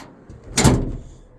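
A door on a quonset hut being converted into a cabin in Alaska is pushed shut, a single broadband thud-and-rattle of moderate loudness against quiet room background.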